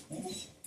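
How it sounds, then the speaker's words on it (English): Pet dogs at home let out a brief excited yelp and whimper, close and fairly loud, lasting under a second. "Oh, my dogs are going crazy."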